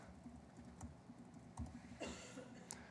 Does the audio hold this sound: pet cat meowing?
no